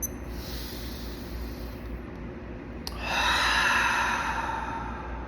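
A single deep breath, a soft airy inhale followed by a louder, broader hissing exhale near the microphone, alone in a quiet room.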